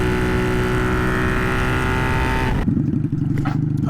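Honda Magna motorcycle engine running loud and steady while riding, a continuous rumbling drone that shifts abruptly near the end as wind and road noise change.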